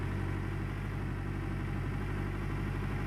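A heavy mining machine's engine runs in the video game Gold Rush: The Game, a steady droning rumble that stays constant and loud with no talk.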